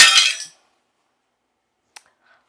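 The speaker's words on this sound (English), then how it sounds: "It just broke into a million pieces just by me holding it." A picture printed on glass shatters into many pieces in a single loud, bright crash lasting about half a second, followed by quiet with a few faint tinkles of settling fragments.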